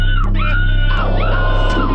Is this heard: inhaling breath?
no